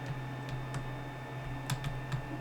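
Keys are pressed on a computer keyboard during image annotation work: a sparse run of quiet, crisp clicks in small clusters, close to the mic over faint background hum.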